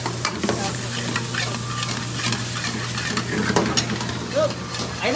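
Onions sauté in a pan in a home kitchen, a steady close sizzle with stirring scrapes and a low hum running under it, without speech.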